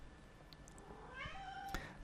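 A house cat gives a single soft meow near the end, faint and slightly distant, rising then falling over a quiet room background.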